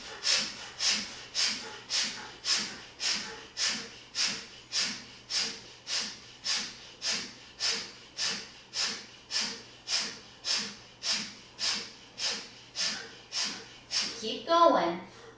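Forceful exhalations through the nose during a breathing exercise, a steady train of about twenty sharp, close puffs evenly spaced around one per second, with a quiet voice near the end.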